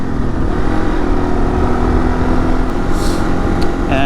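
A Yamaha XT225 dual-sport motorcycle engine drones steadily and loudly while being ridden, a continuous throaty rumble with a fairly even pitch that holds throughout and no speech over it.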